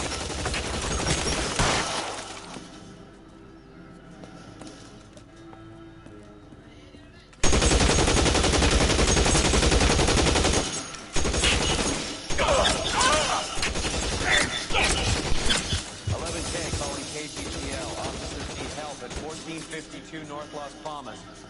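Video game gunfire, with sustained machine-gun bursts and shots, quieter and sparser at first, then a sudden loud eruption of rapid firing that continues with crashes while voices speak over it.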